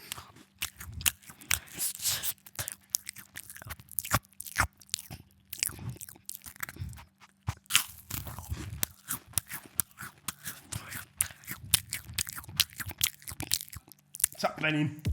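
Crunchy food chewed during an ASMR eating challenge: close, sharp bites and brittle crunches come in irregular bursts, separated by short pauses, with people talking at times between them.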